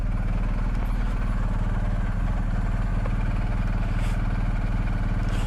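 A BMW GSA 1250 motorcycle idles steadily close by as it is being parked, a constant low throbbing engine drone with no revving, joined by faint brief noises near the end.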